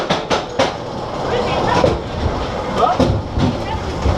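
A mine train roller coaster at Walibi Belgium, ridden from the front near the locomotive, clatters along the track with loud rolling rumble and rhythmic clacks, while riders talk over the noise.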